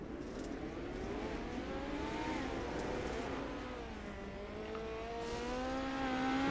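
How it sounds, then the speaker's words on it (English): Midget race cars lapping the Chili Bowl dirt oval in a sim racing game, several engines droning and rising in pitch as they pass, a steady loud layered whine throughout. "So cars are back on the racetrack for another brief little hot lap session"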